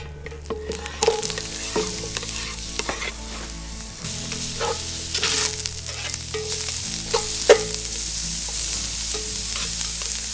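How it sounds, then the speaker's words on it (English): Onions and garlic sauté in olive oil in a Dutch oven, a steady close sizzle broken by clinks and scrapes of stirring. Low rumbling hum runs underneath and no one speaks. "Onions and garlic are sauteing."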